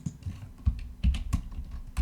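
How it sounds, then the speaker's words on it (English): Rapid, uneven clatter of keys as someone types quickly on a computer keyboard while writing in a script editor, close and clear with no talking. "just start typing really fast"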